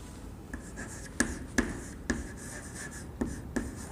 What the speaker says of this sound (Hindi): चलो इस उत्तर को हम लिखते हैं।